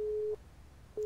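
A telephone busy signal in a video game: two steady mid-pitched tones, one at the start and another beginning near the end, with a short quiet gap between, no talk.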